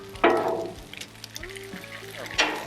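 Hash browns frying on a Blackstone griddle give a soft, steady sizzle with brief louder bursts as they are shaped, close by, with a few faint tonal clinks and no talking.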